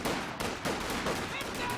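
Rifle gunfire in a strategy video game battle, a dense, continuous crackle of many distant shots blended together at steady loudness, with a voice talking over it.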